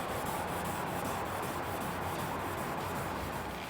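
600-grit sandpaper is rubbed by hand across a car body panel on a 1970 Chevelle, producing a steady, close, continuous gritty rasp of rhythmic strokes, with no talking.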